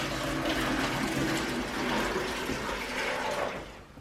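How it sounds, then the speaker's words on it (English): Tap water running into a bucket holding bleach, a steady broadband rush that stays loud and close for several seconds before tapering off as the flow stops. "So here I have my bucket with the bleach in it and I'm now filling it up."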